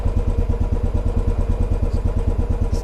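A used motorcycle, started from cold, runs at a steady idle close by, its engine pulsing in an even, rapid rhythm throughout.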